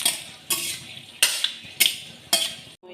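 Bay leaves and cinnamon sizzle in hot oil in a kadai, with a steady hiss broken by five sharp, regularly spaced scraping stirs; no one speaks.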